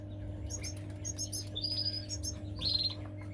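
Gouldian finches chirp in an aviary with short, bright, high-pitched tweets in quick clusters, fairly close, over a steady low electrical hum.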